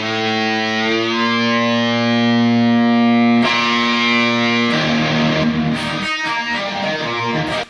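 A guitar's open A string rings out while tuning, a sustained loud note with steady overtones, followed by further struck notes and brief chord strums, with no voices.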